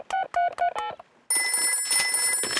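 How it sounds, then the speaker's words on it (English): Cartoon telephone keypad tones from a number being dialed, four quick beeping presses in a row, then a burst of ringing and bright electronic tone, all clear and close with no talking. "I'll phone Grandpa Pig"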